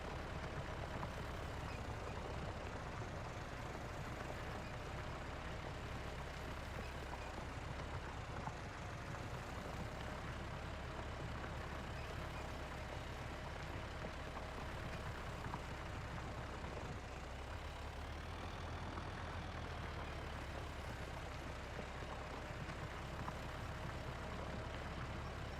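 A tractor without four-wheel drive driving across a field in Farming Simulator on the Iowa Plains View map, giving a steady, loud engine drone that stays constant throughout with no talking.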